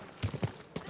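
Horse hooves clop over ground in Kingdom Come: Deliverance 2, a few irregular near thuds in a loose walking rhythm, moderately loud over a hiss of open-air game ambience.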